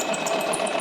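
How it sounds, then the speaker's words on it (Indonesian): A sewing machine runs steadily as it stitches along a marked line, a continuous close mechanical whirr with a fine rapid needle rhythm and no pauses. "turunkan jarum pada titik awal, turunkan sepatu, lalu jahit"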